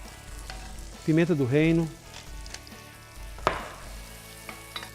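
Onion sautés in olive oil with a pinch of salt for a leek cream, a soft, steady sizzle running throughout, with a brief spoken phrase in the middle and a sharp clink of a utensil later.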